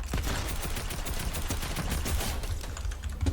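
Rapid gunfire in the Fortnite video game, with a dense continuous stream of shots at steady loudness throughout and no talk over it.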